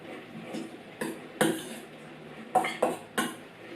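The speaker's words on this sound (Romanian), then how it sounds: "Amestecăm." A wild rice dish with tofu and sumac is stirred in a pot, giving a handful of sharp clinks and scrapes of a spoon against the pot over a soft background, with no talking.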